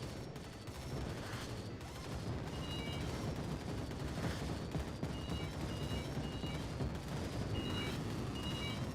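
Rapid gunfire from an arcade machine in Arcade Paradise rattles continuously over a dense, noisy backdrop, with high electronic beeps popping in and out.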